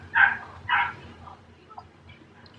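A dog gives two short, close barks in quick succession, then a couple of faint whimpering yips trail off in a quiet room.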